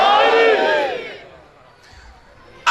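Crowd at a religious mourning gathering in Sook Kalan raising the chant Haidari together, a loud surge of massed voices up front that fades over about a second, then near quiet before another burst at the end.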